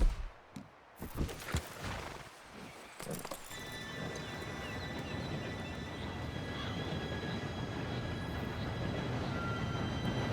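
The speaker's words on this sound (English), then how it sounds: "Train should be here any minute now." A few clattering knocks and footsteps give way to a rising, steady rumbling roar with a faint metallic whine, as a train draws near in the video game Red Dead Redemption 2.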